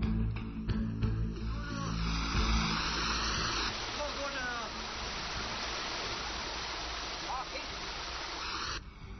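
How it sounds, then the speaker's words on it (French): Water pours gradually into a large basin, making a steady, rushing, hissing flow like a small waterfall, with a voice speaking over the first few seconds. "On rajoutait de l'eau progressivement dans le bassin."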